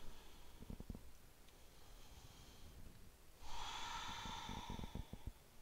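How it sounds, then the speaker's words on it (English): Deep breathing during a healing yoga flow, a soft, close inhale followed by a louder, longer airy breath with faint body shuffling, quiet and unaccompanied by speech. "Take a breath here."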